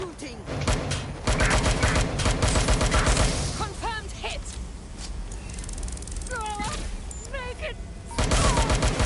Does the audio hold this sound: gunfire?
yes